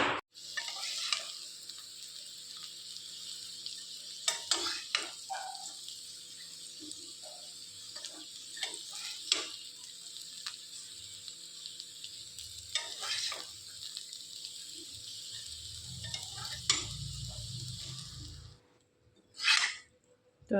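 Maggi noodles with peas, carrot, onion, potato and green chili cooking in a pan, a steady close sizzle with intermittent stirring scrapes and clinks, ending in a brief louder burst.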